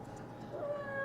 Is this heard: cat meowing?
yes